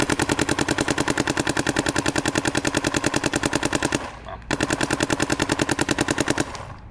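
Planet Eclipse 180R paintball marker firing in long rapid full-auto strings, a steady stream of sharp evenly spaced pops, loud and close, with a brief pause before a second burst.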